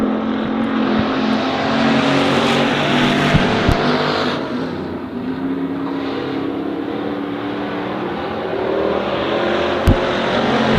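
Race cars roar continuously around the dirt oval at Honor Speedway, a dense loud engine drone that rises and falls as cars pass, with occasional sharp clicks and knocks and no talking over it.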